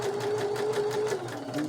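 A sewing machine runs steadily as it stitches a ribbon square for a crazy quilt, giving a continuous close, buzzing whir with no pauses.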